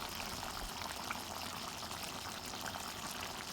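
Humba stew of pork trotters cooked with Sprite, garlic and onion, simmering down its broth; a steady, dense bubbling and sizzling hiss fills the whole stretch at moderate level, with no talking.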